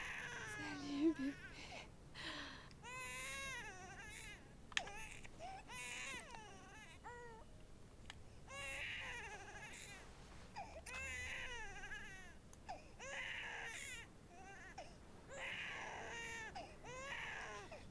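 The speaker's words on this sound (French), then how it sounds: "Si, il pleure, il pleure." A newborn baby cries in repeated, high-pitched wailing bursts after birth in the video game Beyond Two Souls, fairly faint, with people speaking over parts of it.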